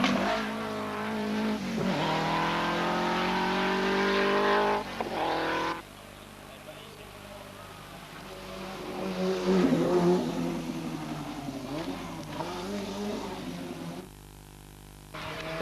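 A Renault 5 rally car races along a stage at the 1987 Rallye National de Porto-Vecchio, its engine revving hard and loud through gear changes, then fading and returning as the car passes.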